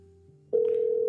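An outgoing phone call: a low, quiet tone gives way to a loud, steady ringback tone that starts abruptly and holds without a break.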